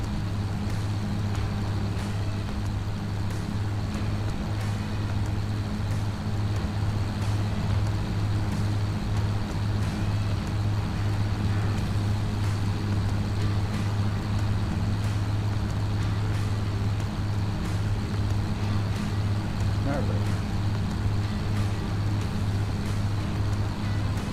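A modern farm tractor engine runs at a steady idle, a constant low, droning hum with no change in pace and no voices over it.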